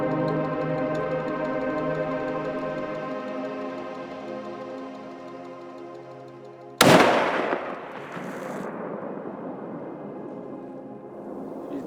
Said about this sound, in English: shot about the same distance, right around 450 yards